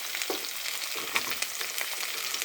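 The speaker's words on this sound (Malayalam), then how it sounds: "എണ്ണ ചൂടാകുമ്പോൾ കറിവേപ്പിലയും 2 വറ്റൽമുളകും കൂടി ഇട്ട ശേഷം നമുക്ക് എടുത്ത് വെച്ചിരിക്കുന്ന ഉപ്പിപ്പരിച്ച് വെച്ചിരിക്കുന്ന പയർ ഇട്ട് കൊടുക്കാവുന്നതാണ്" Salted long beans hitting hot oil with curry leaves and dried red chillies, a dense continuous sizzle with faint crackles, close and fairly loud, no voices.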